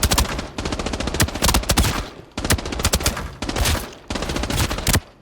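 An assault rifle in Arena Breakout is fired from the hip in long, loud automatic bursts, rapid shots broken by brief pauses, with no talking.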